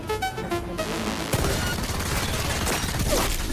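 Rapid bursts of gunfire from the video game Cyberpunk 2077 crackle loudly over a continuous rumble of in-game combat, with dense overlapping shots and no talking.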